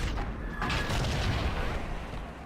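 A tank cannon fires in World of Tanks, a heavy, booming shot on a T-127 that rolls into a sustained low rumble of battle noise, loud and close.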